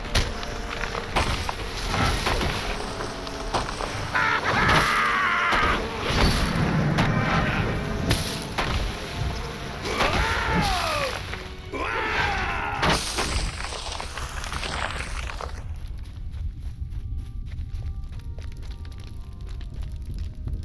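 Attacking a tree in Lord of the Rings Online as a Dwarf Guardian: repeated heavy thuds, cracks and crunching impacts with combat effects, loud and dense throughout, no voice present.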